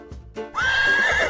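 A horse gives one loud, close whinny that holds for nearly a second after a couple of soft thuds, with no other sound around it.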